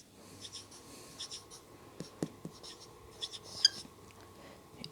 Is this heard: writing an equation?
yes